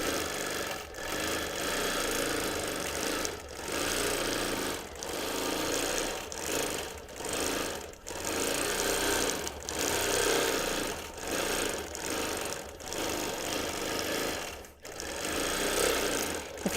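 A domestic sewing machine free-motion quilts a baby quilt, running in a fast, steady buzzing stitch. Brief pauses and speed changes break it every second or two, and it sounds close and alone.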